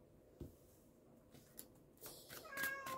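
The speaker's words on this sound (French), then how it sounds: "les chats, ça veut sortir toutes les 2 minutes" House cats meowing to be let outside, a few faint mewing calls rising toward the end in a quiet room, with small knocks and rustles before them.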